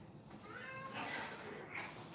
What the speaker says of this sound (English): Yes, kitty. Hey, Muzzy. You want to say hi to everyone?